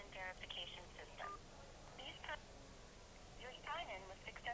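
A phone call from a multi-factor authentication verification system plays a thin, telephone-band automated voice in short bursts with pauses. It is faint and sits over a steady hiss.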